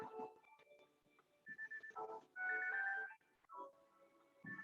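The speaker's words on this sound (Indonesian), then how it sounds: "saya harus jawab telepon ini" A telephone rings with a repeating electronic ringtone melody, a short sequence of tonal beeps heard at close range and fairly quiet, with brief gaps between phrases.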